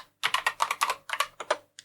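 Quick bursts of typing on a computer keyboard, about a dozen crisp keystrokes in uneven clusters with short pauses, close and clear in a quiet room.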